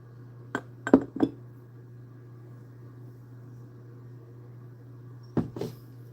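Glass items clink together as they are moved around, a few sharp separate chinks in a cluster, then quiet over a steady low hum, then another brief pair of clinks.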